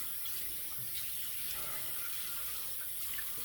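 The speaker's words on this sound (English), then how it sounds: "We're just going to wet the head." A tap runs steadily to wet the head before a shave, a continuous even hiss of flowing water at close range with no talking.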